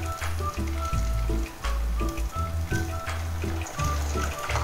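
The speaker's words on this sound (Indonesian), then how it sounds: "saya mau goreng dulu si empek-empek yang sudah saya rebus tadi" Boiled pempek, Palembang fish cakes made with tapioca starch, frying in a pan with a soft continuous sizzle and crackle, heard under a steady rhythmic music backing.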